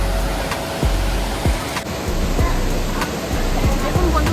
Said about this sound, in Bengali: জল পড়ছে, নিচে চলে যাচ্ছে